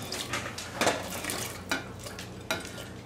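Ham hock and chopped vegetables drop into a soup pot for split pea and ham soup, giving a few soft thuds and clanks with stirring and scraping against the pot.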